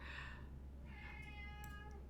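A cat meows twice in the Disney Dreamlight Valley video game, a soft, drawn-out call followed by a longer tonal one, faint over a low background hum.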